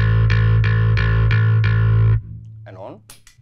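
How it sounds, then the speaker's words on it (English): A bass guitar's open A string played dry with no compressor: about six even, sustained plucked notes with a deep, full tone, then a sudden drop to a quiet, thin tail. "an open A would sound like this."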